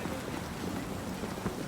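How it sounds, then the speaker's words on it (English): Steady heavy rain hisses in an even, dense wash in the video game Cyberpunk 2077, fairly loud and unbroken, with no voices. "this is so rainy"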